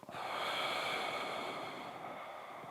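A long, steady breathy exhale during a Pilates back-mobility exercise, close and fairly soft, with no talking over it.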